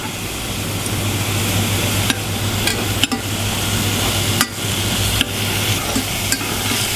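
Morel mushrooms sear in a hot pan, a loud continuous sizzle and crackle with occasional sharp clicks as they are turned, no voices.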